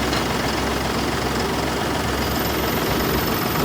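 An Eicher truck's engine idles steadily just after a new battery is fitted, a constant low diesel rumble with a broadband rattle that holds even and close throughout, with no voices.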